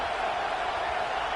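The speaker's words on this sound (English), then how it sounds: "Listen to this crowd just shaking the girders of this place" A packed football stadium crowd roars steadily to urge on its defense, a dense, loud, continuous wall of cheering with no break.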